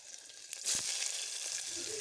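Cumin, mustard seeds, cloves and black pepper tempering in hot oil in a pressure cooker, a faint crackle that swells into a steady hissing sizzle after a soft drop.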